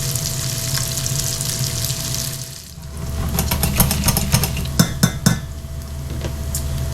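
Sous vide bacon and Brussels sprouts frying in a pan, a loud continuous sizzle with bursts of crackling and clinks from utensils stirring, close up with no talking.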